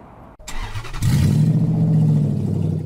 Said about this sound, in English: Just too loud. When a catalytic converter is stolen.